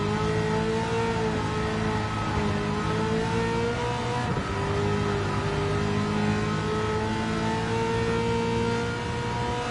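Race car engine in Gran Turismo 7, a continuous loud revving drone holding high revs with a brief gear-shift dip midway, steady and alone.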